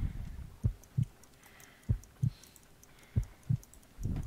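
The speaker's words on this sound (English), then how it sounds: "I need to concentrate and count the heartbeats." A heartbeat in the video game Sherlock Holmes: Crimes and Punishments, slow paired thumps repeating about every 1.3 seconds, soft and steady over a quiet background.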